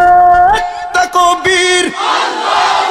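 Crowd at a religious gathering in Sylhet shouting takbir in unison, loud and close, as overlapping chanted voices that swell into a broad roar.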